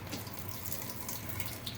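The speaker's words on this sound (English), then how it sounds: "lots of nasty water. That's tofu water" Tofu packing water pouring out of the package, a steady close trickle and splash that runs throughout with no talking.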